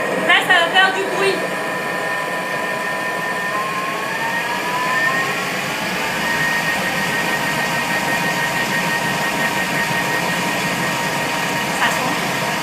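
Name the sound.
Thermomix blending carrot and coconut milk soup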